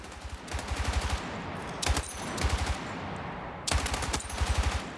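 An SAW light machine gun fires in Battlefield 6, in three loud sustained bursts of rapid rounds separated by short pauses.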